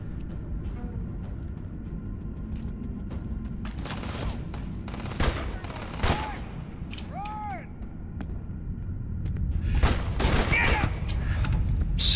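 Gunfire in the video game Starfield, scattered sharp shots and heavier booming bursts over a rumbling background, growing denser and louder toward the end, with other game sounds mixed in.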